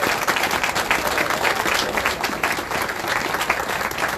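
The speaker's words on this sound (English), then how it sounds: "Y'all make some noise for Mr. Holmes" A crowd gathered at a historical marker ceremony for a 1950 protest claps and cheers for an honoree, dense, loud and sustained applause throughout with scattered voices mixed in.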